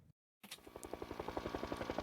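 News helicopter flying overhead, its rotor thumping in a steady, quickening pulse that rises in loudness after a moment of silence, heard close and alone.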